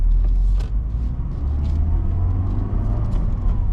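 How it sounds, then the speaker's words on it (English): A 1998 Mercedes-Benz CLK230 Kompressor with a five-speed manual drives along, its engine a loud, steady low rumble with road noise from inside the car. "welcome to the driving video of this 98 CLK230 compressor"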